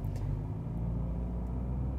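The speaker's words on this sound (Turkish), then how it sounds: "Gaza bastım, çektim." A 2023 Citroen C5 Aircross accelerating after the gas pedal is pressed, heard as a steady, low engine and road rumble from inside the cabin that stays fairly quiet and even over a couple of seconds.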